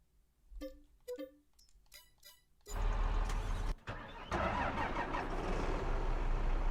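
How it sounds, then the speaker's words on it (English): A small Kloss tractor in Farming Simulator 22 cranks with a few short starter bursts, then its engine catches and settles into a loud steady idle that continues to the end. "I'm actually going to grab this little Kloss tractor."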